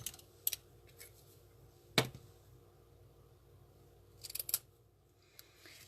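Scissors snip through burlap ribbon in a few sharp, quick cuts spaced apart, with a louder snip near the start and a cluster of close clicks toward the end.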